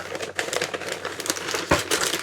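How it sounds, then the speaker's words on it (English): Wrapping paper torn off a mailed Christmas package in a run of close crinkling rips, with one sharp louder tear near the end and no talk over it. "Rip the paper."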